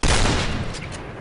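Gunfire from a black AUG rifle in a Counter-Strike match: one loud burst of shots at the start that fades into a decaying rumble, with no talking.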